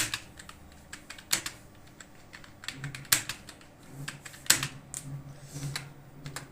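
A computer keyboard is typed on slowly and unevenly, with scattered individual key clicks and a few sharper strikes, close by with no talking.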